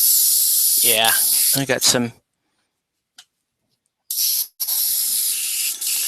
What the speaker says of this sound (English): having some atomization issues with the airbrush. Not a big deal. I'm only spraying the black.